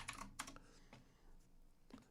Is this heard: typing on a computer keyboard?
yes